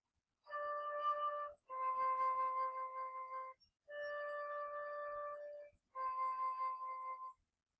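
A flute sounds four sustained D notes, each about a second long with brief pauses between, clear and steady with soft breathy edges.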